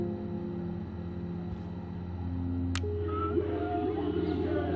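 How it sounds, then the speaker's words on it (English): Whale song plays in the Life Is Strange video game: drawn-out, gliding tonal calls rise over a steady low rumble and hum, moderately loud, with no talk. "Whale songs?"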